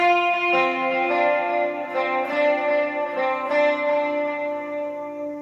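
Clean electric guitar notes, with no effects, ring out together on the G string, a sustained chord struck twice and left to resonate, clear and close with no talking.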